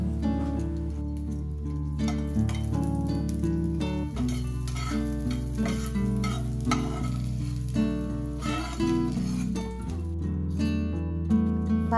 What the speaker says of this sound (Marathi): थोडंसं तेल टाकून त्यात लसूण आणि मिरच्या भाजून घेऊ।